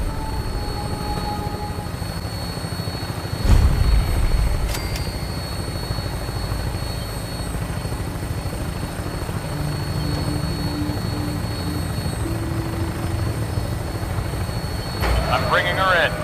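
A Vertibird aircraft in Fallout 4 gives off a steady droning rotor and engine roar throughout, with a brief thump and a few game sound effects over it.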